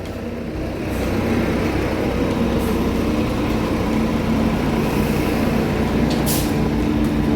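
A heavy vehicle, probably a truck, rolls past on a road with a steady broadband engine and tyre rumble that swells after the first second and holds loud, with a faint hiss near the end and no talk.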